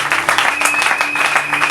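A church congregation bursts into dense, sustained applause for the Lord, loud and close, with a faint murmur of voices woven through the clapping.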